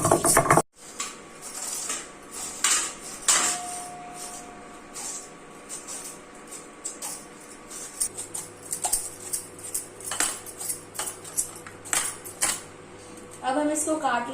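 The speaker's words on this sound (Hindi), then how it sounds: "अब हम इसको काट लेते हैं" A knife cuts papaya for a Chhattisgarh-style papaya curry, with irregular clicks and taps against a board or dish over a long stretch, alongside some talk and a louder rattle at the end.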